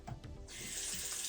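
A faucet turned on to warm up water, a faint trickle that quickly becomes a steady, hissing stream of running water into a sink.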